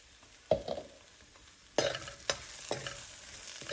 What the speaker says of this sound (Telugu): ఇప్పుడు దంచి పెట్టుకున్న పొడి వేసేస్తాను